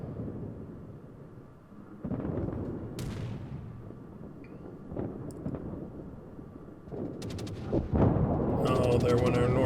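Heavy naval gunfire and booming shell blasts from a British tier-8 battleship, HMS Vanguard, in World of Warships, firing on torpedo bombers; repeated low rumbling salvos roll under steady battle noise with someone talking over them.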